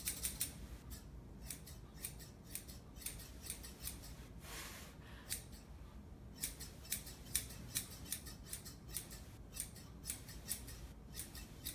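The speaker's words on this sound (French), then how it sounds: "Fait qu'on va y aller au ciseau à la place" Scissors cutting a poodle's fur during grooming: quick, close metallic snips in uneven bursts, fairly quiet, with no talking over them.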